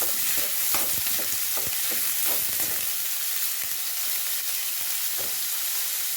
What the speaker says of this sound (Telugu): ఆయిల్ వేడైపోయిందండి. ఇప్పుడు ఆనియన్ వేసాను. చాలా సన్నగా తరుక్కున్న ఆనియన్ వేసుకున్నానండి.